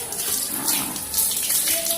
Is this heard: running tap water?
yes